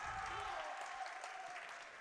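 Home crowd at a JV high school basketball championship, Suburban versus Crosspointe, roaring and clapping in a steady, broad wash of cheering that holds for the whole stretch and fades slightly at the end, with no distinct voices.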